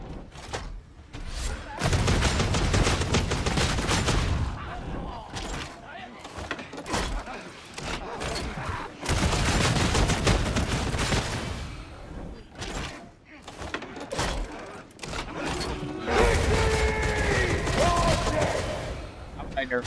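Bolter gunfire in Warhammer 40,000: Darktide, dense bursts of heavy shots in long volleys with brief gaps, loud and close, mixed with other game combat noise.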